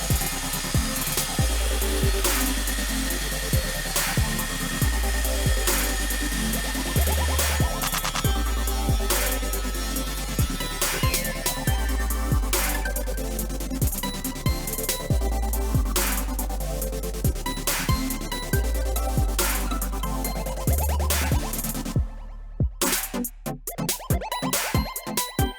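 A Kreg Adaptive Cutting System track saw rips a wooden board along its guide track, giving a long, loud, continuous whine and rasp through the cut, then winding down at the end.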